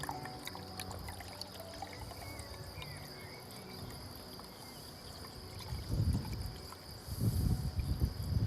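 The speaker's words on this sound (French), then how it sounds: "Et je le filtre doucement pour récupérer l'eau dans cette bouteille" Water is gently filtered and poured into a bottle, a soft trickle that swells into louder pouring bursts near the end, with crickets chirping steadily in the background.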